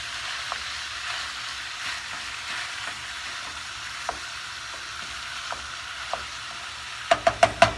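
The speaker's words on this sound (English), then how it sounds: "I am using my mix and chop now to break up the ground beef." Ground beef sizzles steadily in an olive-oiled pan while a Pampered Chef Mix N' Chop breaks it up, with soft scraping taps through the frying and a few sharper clicks near the end.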